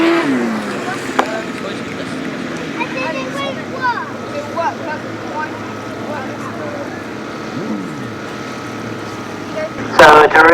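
Grasstrack sidecar motorcycles racing at the 2019 British Masters qualifier, their engines a steady droning roar through the whole stretch, with a louder burst near the end and a commentator talking over it.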